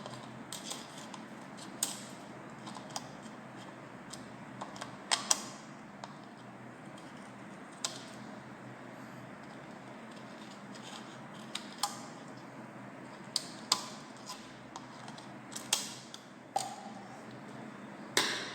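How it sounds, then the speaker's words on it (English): Scissors cutting a strip in a straight line, a series of sharp, sparse snips scattered irregularly over a quiet background, close and fairly faint. "So I'll be going to cut it in a straight form with the using of scissor."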